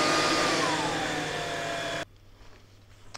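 A Tineco PureOne A50S Plus cordless vacuum cleaner suctions over a tiled floor with a loud, steady high whine and airflow roar, then cuts off abruptly, leaving a faint hum.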